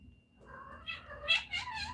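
A house cat lets out a drawn-out meow that rises into several wavering, whiny pulses, close and clear against a quiet background.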